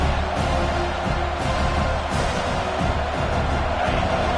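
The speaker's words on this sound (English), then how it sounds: "This crowd, full throat, splitting the eardrums and letting them know it's going to be a long day." A loud football stadium crowd roars full-throated in a steady, dense wall of cheering that runs unbroken throughout, with no clear speech above it.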